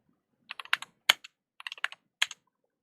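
Clicking keystrokes on a computer keyboard, typed in short irregular bursts with brief pauses between them, close and crisp in an otherwise quiet room.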